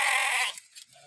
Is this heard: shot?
no